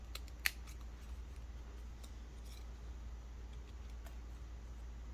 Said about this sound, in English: you just kind of make a diagonal cut to the center